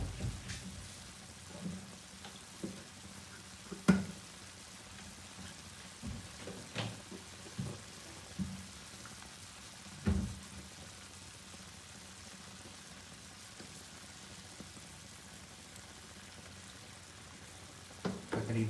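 Beef frying in about a cup of oil on a tawa, a steady soft sizzle running throughout with occasional sharper pops and stirring knocks, moderately quiet and without talking.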